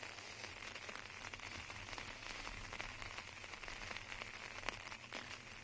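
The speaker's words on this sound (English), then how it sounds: "As rain continues to come down, it's a pretty steady, consistent mist." Steady light rain, a fine misty drizzle, falls over an outdoor disc golf course, a soft continuous patter and hiss at low level with scattered tiny drop ticks.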